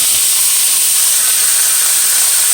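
Grease sizzling loudly in a hot skillet while rice is stir-fried, a steady, dense hiss that fills the whole moment without any distinct single pops standing out.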